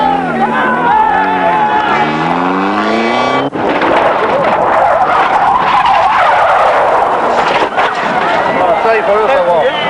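A rally car skids under braking on a special stage of the 1996 Ronde Cévénole, tyres squealing loudly with a shifting pitch, followed by engine noise and crowd sounds under a commentator's voice.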